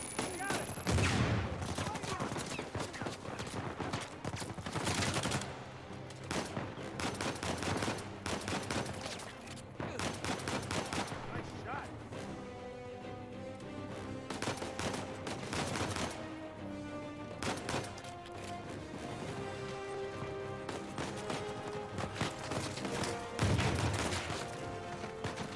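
Rapid bursts of gunfire in Uncharted 4 as blind fire is sprayed from the hip, dense and loud volleys nearly continuous throughout with brief lulls and sharper blasts mixed in.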